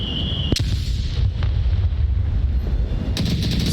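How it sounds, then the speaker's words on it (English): Gunfire rattles through a competitive shooter match, with sharp close shots and bursts and a few distinct cracks over a constant low rumble of game noise. "Section 1 taking shots."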